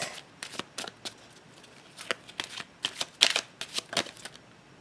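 Tarot cards shuffled by hand nearby, a run of quick crisp riffling bursts that come faster and louder toward the end, with no talking.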